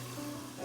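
UK style chips on their second fry in hot oil, giving a steady, close sizzle that swells slightly near the end, with no voices.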